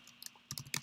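Keys tapped on a computer keyboard at a command prompt during a MiCASA software session: a few light clicks, then a quick cluster of sharper keystrokes, close and alone.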